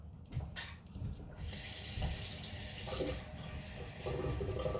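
Hot water pouring into light milk for potato soup, a steady gushing stream lasting several seconds, loud and close, with no talking.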